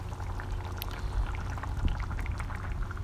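Hot tomatillo and green zebra tomato salsa pours thickly into sterilized jars, a close, steady glugging and splattering of liquid with soft knocks against glass, running continuously.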